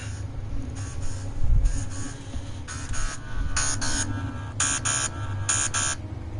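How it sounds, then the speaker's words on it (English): A phone alarm beeps in repeated bursts of two or three high tones with gaps between them, over a low steady hum of game music and background noise, heard while playing No Man's Sky Frontiers. "Hold on, I got another freaking alarm going off."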